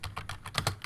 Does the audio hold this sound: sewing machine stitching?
no